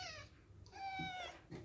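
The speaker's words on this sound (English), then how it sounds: "Being attacked by cats." Cats meowing while someone tries to eat fish, with two close, drawn-out meows separated by a short pause and faint rustling underneath.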